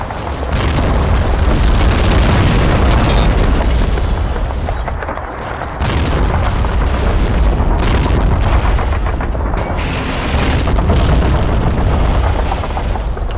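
Shells striking and glancing off a T-34 tank in a World War II video game: loud, dense barrage of booming impacts and gunfire, continuous with brief dips, no talking.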